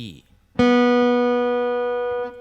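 One plucked open B string on a guitar rings out bright and clear, holding a long even sustain until it is cut short near the end.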